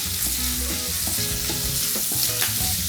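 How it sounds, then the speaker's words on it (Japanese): Green beans and chickpeas stir-fried in a pan, giving a steady close sizzle with scraping stir strokes and light clinks throughout, no voices. "もう少し炒めていきますか。"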